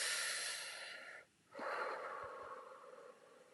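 A long, close deep breath drawn in with an airy rush, a brief pause, then a full audible exhale, loud and unaccompanied by talk.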